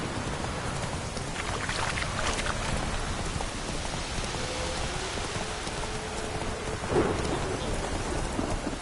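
Steady rain pours in a stormy scene from the video game The Witcher 3, with low rolling thunder rumbling beneath the downpour and a louder swell near the end.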